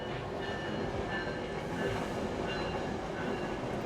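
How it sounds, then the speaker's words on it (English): A New Jersey Transit train rumbles past outside an open window, with a loud, continuous broadband roar and faint wheel squeal throughout. "Here comes another train."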